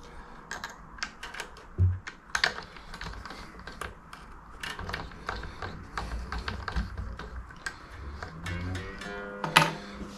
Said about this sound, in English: tighten her up with a string winder because it's easier